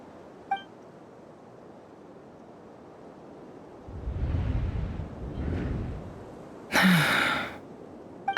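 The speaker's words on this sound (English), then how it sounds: "I heard Jahoda gasp," A Genshin Impact character, Jahoda, gives a short sharp gasp amid quiet ambient game sound, preceded by a soft breathy sigh.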